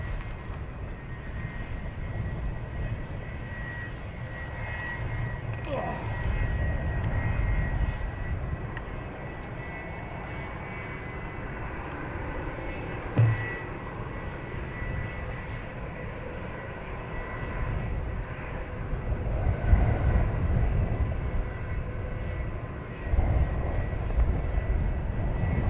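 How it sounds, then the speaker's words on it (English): An EasyJet jet airliner waits for departure at Luton Airport with a business jet behind it, giving a steady rumbling engine drone at a distance that swells and eases over a long stretch, with no talking. "So we have the EasyJet waiting for departure, followed behind another Bizz Jet"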